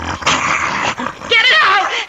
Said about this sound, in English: It's only a dog, for Pete's sakes.